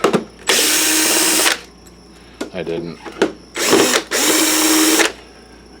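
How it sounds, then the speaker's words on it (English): Power drill used during repair of a Sanyo PLC-XM150L LCD projector, loud whirring in two long bursts with shorter bursts between, and a brief voice in a pause. "I use 2 drills"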